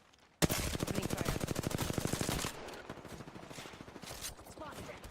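Rapid automatic gunfire from an Apex Legends match, a loud sustained burst of evenly spaced shots for about two seconds, then quieter scattered fire and game noise.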